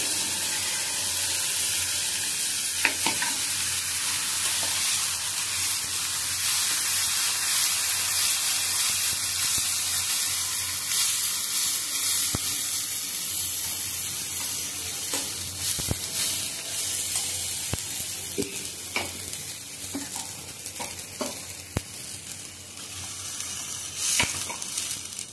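A paste of ground onion, coconut, ginger and garlic sizzles steadily in a pan over low heat, a continuous bright hiss with occasional stirring scrapes and clicks, and no talking.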